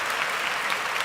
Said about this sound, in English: I got to give Brock Purdy a round of applause